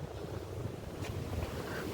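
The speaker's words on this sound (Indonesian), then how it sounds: "di sini banyak angin" Wind blows steadily at a white mosque in Lampuuk, Aceh, a constant low rush buffeting the microphone with a faint airy hiss and no voices.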